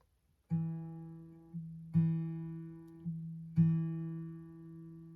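A guitar note on the D string at the second fret is plucked three times at an even pace. Each pluck rings out clearly on its own and fades a little before the next one.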